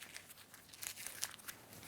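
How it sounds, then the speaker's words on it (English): A paper slip crumpled in the hand gives soft, dry crinkling and a few sharper crackles over about two seconds, close and fairly quiet with no voice. "Just crumple one up in your hand"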